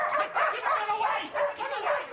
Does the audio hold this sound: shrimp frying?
no